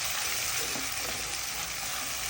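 Onion, chili, garlic and tomato frying in hot oil, a dense continuous sizzle and hiss at steady loudness, close up and uninterrupted.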